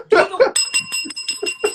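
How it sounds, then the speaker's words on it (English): A small hand bell rings in quick repeated strokes, bright and close, right after a burst of speech and laughter. "Where's my bell?"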